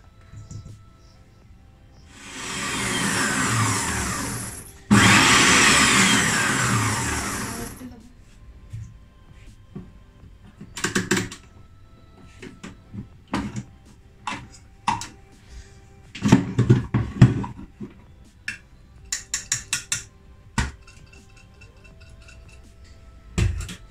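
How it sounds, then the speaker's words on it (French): Eggs whisked with sugar in a bowl: two loud bursts of an electric mixer whirring, then scattered clinks of utensils and dishes with a person speaking at times. "On va mettre par-dessus le sucre et on va blanchir les œufs."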